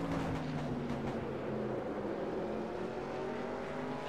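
Race car engine held at steady high revs in a racing video game, a constant droning whine with slight pitch shifts across a few seconds.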